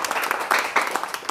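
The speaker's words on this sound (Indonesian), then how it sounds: "Berikan sorak-sorai buat Tuhan Yesus." Church congregation cheering and applauding for Jesus, a dense wash of clapping and shouts close by with a few louder bursts, steady and lively throughout.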